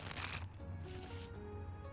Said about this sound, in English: I cut the deck and shuffle them.